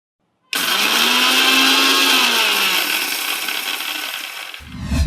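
A mixer grinder coarsely grinding dried red chillies kicks on suddenly with a loud, high whirring roar and rattling blades, sustained for several seconds before winding down and cutting off.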